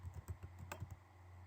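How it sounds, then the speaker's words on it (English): Quick, faint keystrokes on a computer keyboard, about a dozen light clicks in an uneven rhythm over a low steady hum, no talking. "we're going to start typing promotion code text box"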